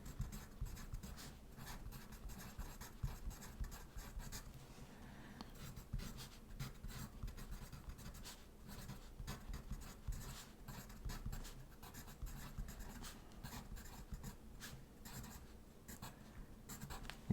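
Steady scratchy pen strokes on a board or tablet while lines are drawn for a circuits Bode plot, continuous close scraping with small irregular bursts, no voice.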